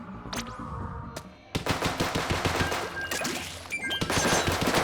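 Rapid bursts of weapon fire from the video game Splatoon, a dense, loud stream of shots rattling continuously after a brief pause, with a few earlier single pops.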